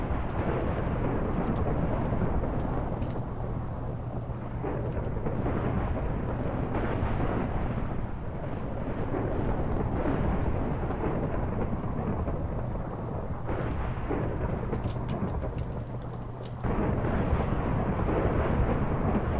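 A Doomsday TNT blast in Minecraft unleashes a long rolling roar of thunder and explosions, dense and loud throughout with shifting rumbles and crackles and no voices.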